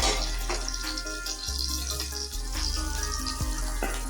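Stuffed green chillies fry in about two spoons of oil over a very low flame, giving a steady, close sizzling hiss with scattered soft crackles and pops throughout, with no voices.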